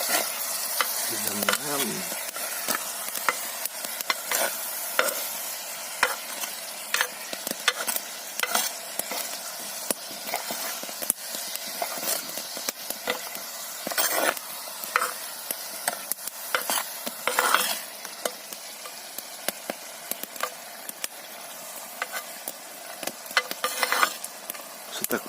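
Shrimp with kamias sizzles steadily in a frying pan while a utensil stirs through it, with scraping strokes recurring over the hiss and a brief voice speaking early on.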